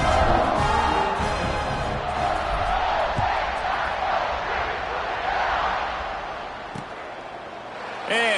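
A stadium crowd at a college football game roars and cheers as the Ducks get ready to kick off, a loud sustained swell that eases gradually, under a commentator's voice.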